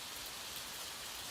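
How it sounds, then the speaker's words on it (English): Steady gentle rain patters on a surface, a soft continuous hiss of drops with no other sounds, quiet and even throughout. "allow the gentle patter of rain to wash away the cares of your day"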